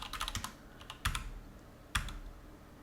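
Computer keyboard typing, a quick burst of clicky keystrokes followed by two separate sharp key presses, close and quiet with no talk.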